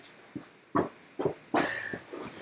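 A pet dog named Khaleesi barks in a few separate short bursts, sharp yaps spaced roughly half a second apart, the last louder and harsher, fairly close by in a quiet room.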